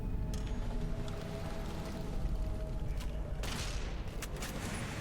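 Gunfire in the video game Fallout: New Vegas: a few sharp, loud shots and bursts that ring out over a steady, rumbling game ambience, with a heavier blast near the end.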